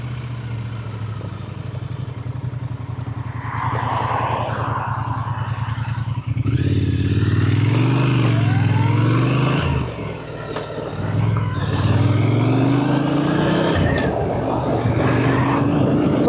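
A 2025 Triumph Speed Twin 1200 RS with its 1200 Bonneville twin engine rumbles up close, then revs and pulls away with rising engine pitch and rough clattering growl, loud and steady throughout.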